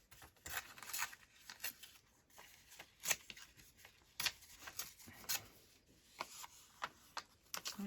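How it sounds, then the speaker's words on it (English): Paper being torn by hand for a travel-themed art collage, a run of quick, crisp rips and rustles in short irregular bursts, close by with no talking. "I'm going to tear this"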